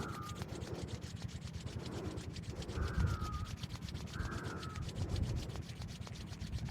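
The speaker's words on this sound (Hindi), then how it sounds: "पुनः दोनों हथेलियों को आपस में रगड़ते हैं।" Two palms rub briskly together during a yoga routine, making a steady, rhythmic swishing friction of skin on skin with quick, even back-and-forth strokes that play alone and close by.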